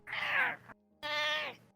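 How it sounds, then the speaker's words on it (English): A pet cat named Shenron lets out two drawn-out meows in close succession, loud and close to the microphone, separated by a short pause. "A vocal cat."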